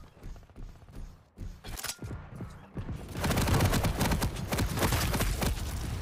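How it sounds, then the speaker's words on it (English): Rapid machine gun fire in a Quake match rattles loud and close, a dense continuous burst that swells and keeps going with other weapon fire and game effects piling in, no talking. "Galena shot machine gun"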